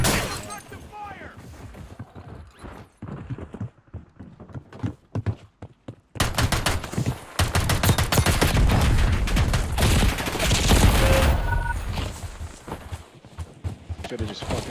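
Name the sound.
gunfire in a video game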